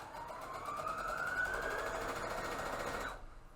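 A sewing machine runs in one steady burst, stitching a fabric face mask with a rising whirring hum for about three seconds before stopping abruptly.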